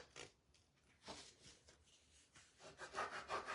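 The backing of a transfer sheet is rubbed down by hand, producing soft, raspy scraping strokes in irregular bursts, close and fairly quiet, with no voices.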